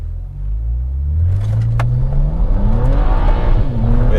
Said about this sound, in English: Has a lot of wheel spin.